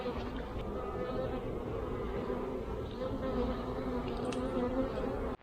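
Honeybees droning steadily at a large backyard hive with a queen excluder during a honey harvest, a close, continuous buzz with individual bees flying past, ending abruptly.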